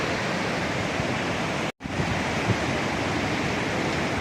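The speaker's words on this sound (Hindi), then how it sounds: "नीचे बह रही भागीरथी नदी" Below a suspension bridge at Devprayag, the Bhagirathi river rushes in a loud, steady roar of flowing water, broken only by a split-second dropout.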